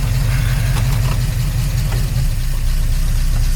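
A 1953 Oldsmobile Rocket Super 88 barn find engine running after long storage, a loud, close, steady low idle with a rough, lumpy rhythm and faint knocking, heard alone.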